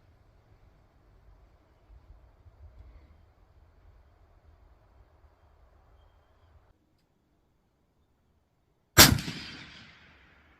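A single sharp rifle shot from a Mossberg Patriot Predator on a long-range target range, a loud crack with a decaying tail after several seconds of quiet outdoor background, no voices.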